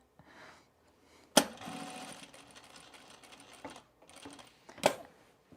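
Home sewing machine stitching a Sylvan jacket in bursts, with a sharp clack at the start of each run, a steady rattling whir, short pauses between runs, and one final sharp clack near the end.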